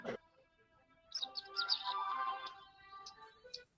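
A small bird chirps in a quiet room, a quick string of thin, high tweets and trills coming in short bursts, faint and close, with no talking.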